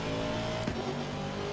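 Race car engine in a sim racing video game revving steadily and loudly, a continuous harmonic drone with a brief pitch surge partway through, heard alone with no talk.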